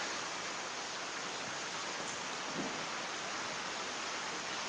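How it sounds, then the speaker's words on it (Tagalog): Heavy rain pours down in a dense, unbroken roar, loud and close, with no break and no voices over it. "Ni todo na pod ang ulan mga kahigalaan ug mga kaigsuonan."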